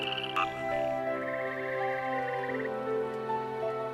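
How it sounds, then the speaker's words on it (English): Frogs give courtship calls in a Hainan tropical rainforest, with rapid pulsed trills and steady croaking layered over a dense, continuous chorus and no voices. "The special frog call in courtship is unique to the tropical rainforests here."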